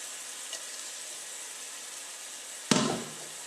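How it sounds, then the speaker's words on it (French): Green beans hit a hot pan with lemon zest, a sudden loud burst of sizzling that quickly settles into a steady fry over a faint background hiss, no talking. "Et maintenant, je verse mon haricot vert."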